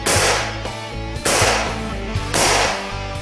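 Three sharp, loud shots from a Benjamin 392 pump air rifle, each a hard crack with a short ringing decay, spaced roughly a second apart with no talk.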